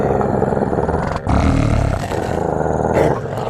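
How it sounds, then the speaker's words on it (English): A dog growls low and continuously from close by, a deep rumbling snarl that keeps going with only a brief break and no talking. "one of the dogs stands up on the couch, with all of his fur on his back standing on end, and begins growling"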